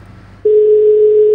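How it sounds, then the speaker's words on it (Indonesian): A steady telephone dial tone starts abruptly after a brief quiet moment and holds as one unbroken, loud hum while a call is placed. "Kita telepon aja ya langsung."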